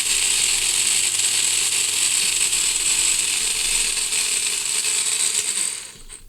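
Parkside cordless rotary tool from a mini angle grinder and rotary tool set, spinning at a low speed setting with a steady high-pitched whine and a slight rattle, alone and close, fading near the end.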